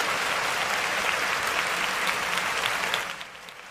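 A live audience at a Tacky & Tasteless music and entertainment show breaks into loud, sustained applause with dense clapping that fades slightly toward the end.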